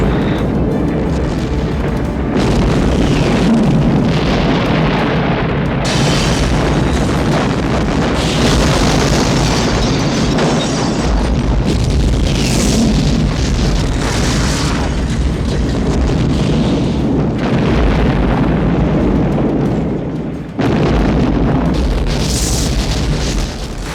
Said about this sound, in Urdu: ایک بہت شدید اور زوردار دھماکہ ہوا